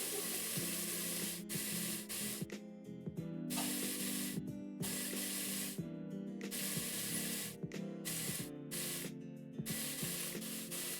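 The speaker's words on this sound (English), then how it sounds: "We're just trying to sear it on all sides just to give it a little bit of color, give it a little bit of flavor" Birria meat sears in a hot pan, a loud steady sizzle and spatter that keeps going throughout, broken by short bursts of crackling and brief gaps.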